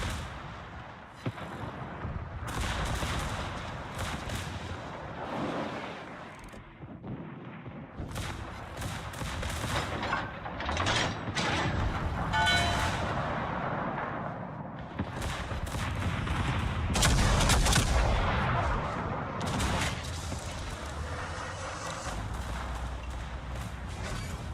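Naval guns fire in the World of Warships video game, a dense run of booming salvos and cracking shots stacked over a steady rumbling background, loud and continuous throughout.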